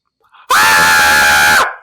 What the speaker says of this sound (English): And start screaming now.